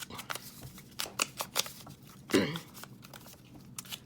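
Scissors snip through paper in a string of sharp, close cuts at an uneven pace, with a brief rustle of handled paper in the middle and no talking.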